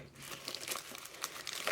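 Crinkling plastic wrap being torn and peeled off a new old stock Memorex MRXI audio cassette, a close, continuous rustle with sharper crackles and rips throughout.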